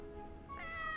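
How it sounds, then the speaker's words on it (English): A cat in the horror game Corpse Party lets out a single soft, rising meow over a low background hum, brief and fairly quiet. "With its head tilted slightly to the side, it let out an adorable meow."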